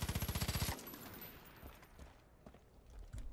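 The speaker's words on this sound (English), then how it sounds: "I wish they changed the sound effect for the M16" M16 rifle gunfire in Far Cry 5, a rapid automatic burst of about ten evenly spaced loud shots, then a tail of scattered fainter distant shots and echoes.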